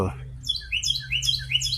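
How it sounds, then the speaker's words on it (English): Wild bird calling outdoors in early warm weather, a series of short high chirps and whistled notes repeating in quick bursts, fairly close and clear over a low steady background hum. "Trying to see what kind of bird it is."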